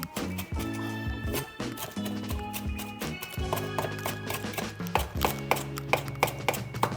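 Knife chopping fresh parsley on a cutting board, a run of sharp, rapid taps in bursts near the microphone, under a steady low hum of background music or noise.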